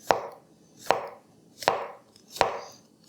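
A Kyoku knife push-cuts through mushroom on a cutting board in four evenly spaced cuts, each a crisp thud on the board followed by a brief soft slicing rasp, close and fairly quiet.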